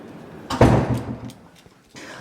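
Heavy old wooden doors of a meeting house swing open with a dull thud and a creaky, scraping rush, followed by quieter shuffling and a faint knock, close by with no talking.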